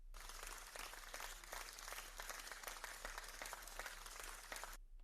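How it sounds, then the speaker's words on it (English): A round of applause for the Stargaze team, the main sponsor of an NFT-focused event, with steady crowd-style clapping that fills the whole five seconds at a moderate, even level before stopping abruptly. "I think they deserve a big round of applause"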